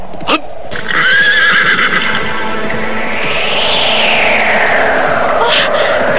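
A horse neighs loudly with a long whinny that rises and falls, followed by steady rapid galloping hooves and a second brief whinny near the end, close and prominent.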